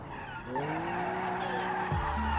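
Tires screech in a video game car designed from scratch, a long sustained squeal with rising and falling pitch as the car wiggles and spins, loud and steady over engine drone.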